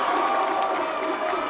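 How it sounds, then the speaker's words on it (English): Crowd of Waimea supporters cheering at a boys' final, a dense roar of shouting and yelling from many people, sustained and loud over the brief moment. "And the crowd are up, the Waimea supporters."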